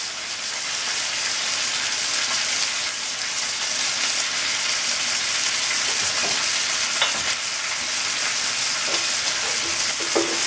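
A piece of beef brisket, salted heavily, sears in a hot pan. A loud, steady sizzle and crackle goes on the whole time, with small pops and no talking.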